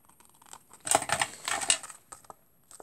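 Scissors cut through paper close up, a short run of crisp snips and rustling slices that bunch up in the middle, with quiet pauses before and after.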